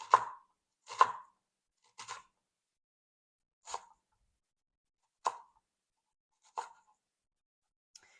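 A knife slices through a red onion on a cutting board, seven crisp separate chops spaced about a second apart, close and clear, with silence between strokes.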